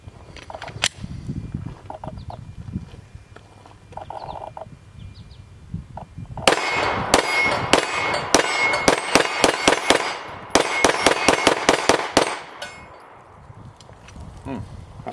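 A Smith & Wesson M&P 9mm pistol fires in rapid speed-shooting strings at a bullseye silhouette target outdoors: two fast bursts of loud, sharp cracks after a quieter stretch of low rumbling.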